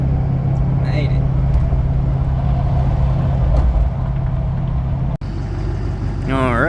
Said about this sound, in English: Just started up the old Duramax, let her warm up